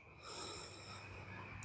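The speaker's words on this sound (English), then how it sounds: "Breathing in once." One slow, deep breath drawn in during a restorative yoga relaxation, soft and close, with an airy wheeze that holds steady for over a second.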